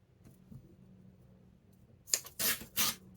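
Paper being torn off a craft ephemera piece in a few quick, crisp rips near the end, close and fairly loud after a quiet stretch.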